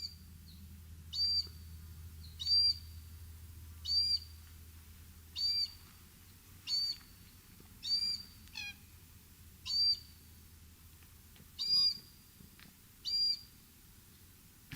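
A lone cockatoo, a bird that keeps in contact with its family group, calls over and over. Short, sharp, whistly calls repeat about every second and a half against a quiet low background, with no talking.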